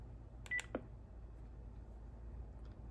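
A FreePBX phone system plays a pair of short dialing beeps close up and faint, followed by a brief electronic chirp, with near silence after.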